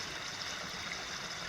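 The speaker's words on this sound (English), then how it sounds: "So this small brook, which is just a few feet closer to the AT than the bear box, is running now." A small brook running through woods in southern New England during a wet early summer, giving a steady, soft, even rush of water at close range with no voices.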